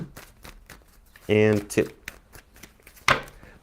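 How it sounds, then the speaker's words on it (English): A tarot card deck being shuffled in two brisk riffles a couple of seconds apart, close and crisp, with someone talking between them. "Give me 2 shuffles."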